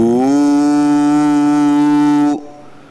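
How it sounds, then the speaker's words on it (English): A group in Vajrasana chants a single intense, sustained "Hoo" of Hunkara, a loud, steady, deep droning tone held for over two seconds before cutting off abruptly. "Start the intense chanting of Hunkara, H-O-O, sound."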